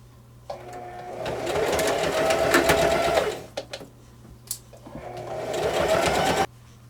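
A sewing machine runs a straight stitch around the edge of a woven round rug, whirring steadily in two bursts of a few seconds each, separated by a brief pause with small clicks and handling noises.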